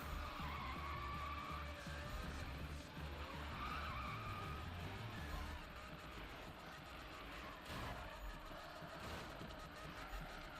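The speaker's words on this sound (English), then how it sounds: "Oh, we went into like some weird drift there." Tyres skid as a car drifts in the 2015 Need for Speed game, a long continuous screech over engine roar, steady and loud, with no speech.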